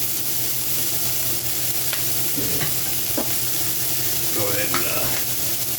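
Onions fry in bacon fat with a bright, continuous sizzle, broken by a few utensil scrapes and stirs, while a voice speaks briefly over it.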